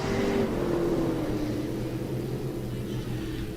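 Stock cars in a heat race at Park Jefferson Speedway rumble and drone steadily, engines holding a continuous low roar with a faint rising pitch as they run close together through a turn.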